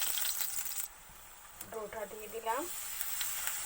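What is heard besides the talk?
paratha dough frying in oil on a tawa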